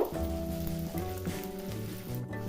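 Eggs fry in hot ghee for methi laddu with a steady, dense sizzle that crackles close by without a break, and no voices are heard.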